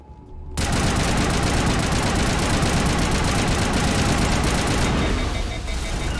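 Sustained gunfire in the video game Mass Effect, a dense, continuous rattle of rapid shots that starts abruptly and holds loud and close for several seconds before easing slightly near the end.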